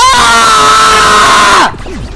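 A man screams loudly and at length while playing the Danganronpa 2 finale, a sustained high-pitched yell that cuts off abruptly, followed by quieter vocal noise.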